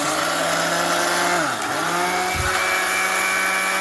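A mixer grinder whirs steadily as it grinds ingredients for laddoos, a loud, continuous motor drone whose pitch sags briefly midway, then runs on before cutting off at the end.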